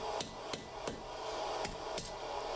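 A hammer taps a forged bodkin arrowhead socket down on a mandrel, six sharp metallic strikes at an uneven pace over a low background hum, close and clear with no talking.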